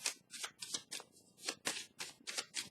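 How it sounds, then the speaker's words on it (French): Tarot cards are handled and laid down during a reading for the Capricorn sign, producing soft, close papery shuffles and slaps in a quick irregular series, quiet and without speech. "Je vais déposer une carte ici"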